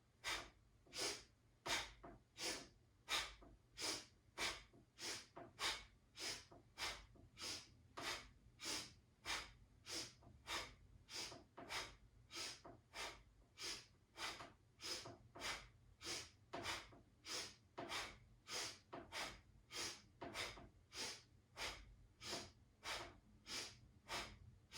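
Slow, deep breathing in a guided exercise, each breath a soft, close rush of air repeating in a regular rhythm of roughly one cycle per second, alone with no talking.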